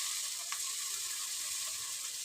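Ginger garlic paste sizzles steadily in a hot pan as it is mixed and fried, a continuous close crackling hiss with a faint utensil scrape.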